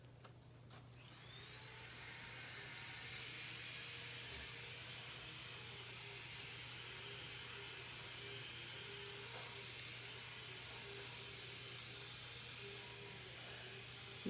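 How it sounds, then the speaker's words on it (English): A vacuum cleaner runs steadily on a floor below, a faint, distant, even drone with a low hum that continues unbroken the whole time. "it appears that my partner decided to do some vacuuming downstairs"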